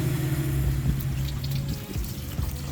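Water running steadily from an outdoor tap at a supercar meet in Austria, a continuous close rushing splash with low mechanical hum beneath and faint background bustle, no speech.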